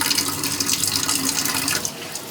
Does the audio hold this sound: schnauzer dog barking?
no